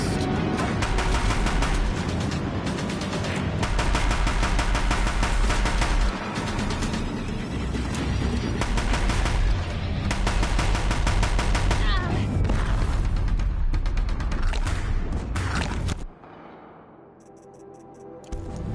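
Deathbringer machines in Horizon Zero Dawn unleash sustained, loud bursts of gunfire, a dense rattling barrage with heavy impacts that runs nearly continuously before abruptly dropping away to quieter rumble near the end.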